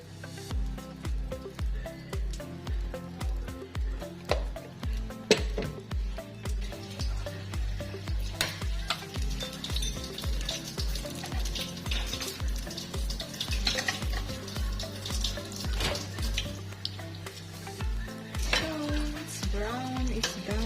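Donut dough frying in hot oil, a steady loud sizzle under a regular thumping beat of background music, with occasional sharp clinks of utensils.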